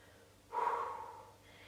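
A single audible breath during a Pilates exercise, a soft, airy exhale that swells quickly and fades over about a second against a quiet room.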